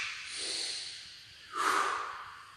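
Forceful exhalations during a floor exercise workout, two strong breathy blows through the mouth or nose, the second sharper and louder, close and alone.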